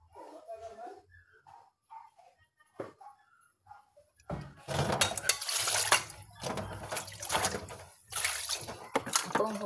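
Dishes and plates are washed at a sink. A voice talks quietly at first, then running water, splashing and clattering plates take over in loud bursts, close by.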